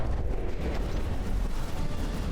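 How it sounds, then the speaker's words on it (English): Cannon fire striking a battleship in the naval combat game From the Depths, heard as a dense, continuous low rumble of booms and impacts with a steady roar and no distinct pauses. "We are getting shot with the Civs cannons, are we not?"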